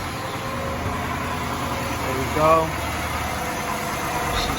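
Chevrolet Impala engine idling smoothly just after starting, a steady low rumble with a slight rise in revs midway, while someone talks briefly over it.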